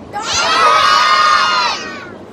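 A group of children shout loudly together on cue in one sustained, unified burst lasting under two seconds, rising sharply and cutting off cleanly, with no talking over it.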